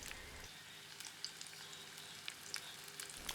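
Whole garlic cloves and about two tablespoons of pimento sizzle gently in hot oil, a soft continuous frying hiss with small pops and crackles spread across it.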